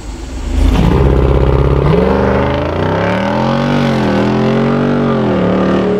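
A 2023 Jeep Wrangler Rubicon 392 V8 accelerating hard on the road with torque reserve engaged, its loud, close engine note rising through the revs, then dipping and climbing again with gear changes.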